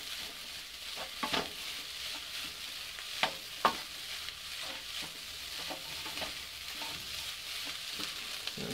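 Leftover rice frying in a pan with a steady hiss, broken by a few sharp clicks and scrapes of stirring, moderately quiet and close with no talking.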